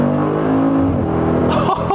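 A car pulling hard under acceleration, a loud steady engine drone with a rising tone, heard from inside close up, with a brief shift near the end.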